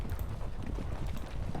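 Cavalry horses moving in a Napoleonic Battles wargame, a steady muffled clip-clop of hooves, faint and continuous without voices.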